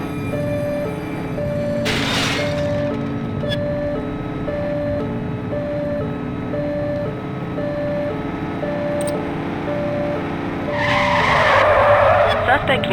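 A dark van skids and roars through a police pursuit in a video game, engine tone droning steadily with a sharp screech near the start and a louder burst of skidding at the end.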